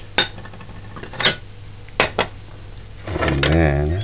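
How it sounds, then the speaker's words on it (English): A clean dish is taken out in a kitchen, giving four sharp ceramic clinks and clatters spread over a few seconds. A person then speaks briefly. "Now, get a clean dish."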